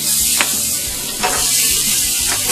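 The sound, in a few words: brats sizzling on a gas grill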